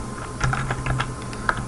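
Code being typed on a computer keyboard, a close, quick run of light, uneven key clicks lasting under two seconds, with no talk.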